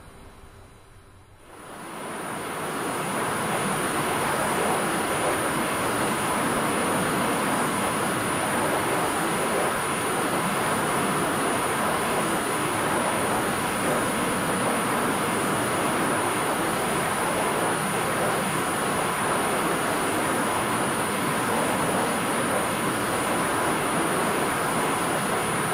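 Desert Hawk aircraft in X-Plane 11 taxiing on the ground at the Kingdom of Bahrain airport: a steady, broad engine roar that swells in after a quiet start and holds constant throughout, with a thin high whine above it.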